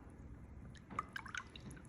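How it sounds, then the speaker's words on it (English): A paintbrush is rinsed in a cup of dirty water during watercolor painting, giving a short, soft run of faint drips and gentle sloshing on its own. "And then we're gonna wash that brush off"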